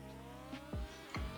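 A Pagani Zonda Cinque accelerating hard from a standstill in a driving video game: a brief, close engine roar whose pitch drops sharply at each of two quick gear changes.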